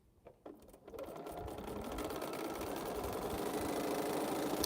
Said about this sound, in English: Now we can sew a piece.